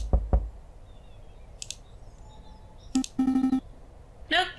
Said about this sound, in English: We should knock anyway.